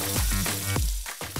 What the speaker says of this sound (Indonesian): Setelah itu baru deh kita mandikan di minyak yang panas